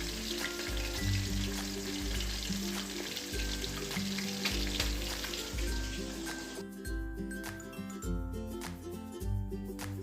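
Potatoes and raw banana pieces fry in hot oil after fish, giving a steady, close sizzle and crackle with occasional stirring, while background music plays throughout.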